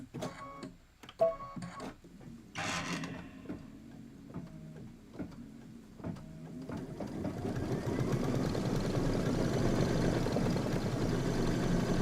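A sewing machine stitches a satin stitch on a quilting project, with scattered clicks and thumps at first, then a steady close mechanical whir building and running continuously.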